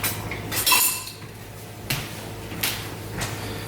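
A spatula scrapes and clinks against a bowl while mixing seasoning for a vegetable flatbread, giving a few separate bright knocks and scrapes, close and fairly loud.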